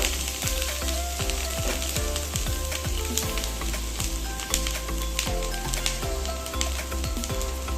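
Grated coconut frying in a wok on a gas stove, giving a steady, loud, close sizzle with bursts of crackling and stirring scrapes throughout, no voices.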